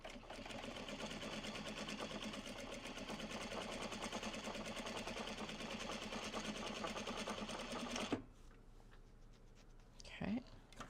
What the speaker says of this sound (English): Wind the next bobbin